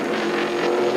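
Stock race cars on a racetrack, late in a race with number 31 trailing smoke and flame toward pit road, roar as a loud, steady, close engine drone without a break.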